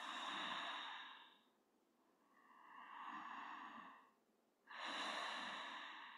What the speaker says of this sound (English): Just a couple deep breaths.